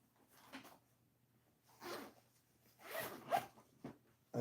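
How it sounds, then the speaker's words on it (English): A zipper on a MOLLE-style pack is pulled in several short bursts, close and crisp, with quiet handling pauses between the pulls. "And it's got another zipper on the other side."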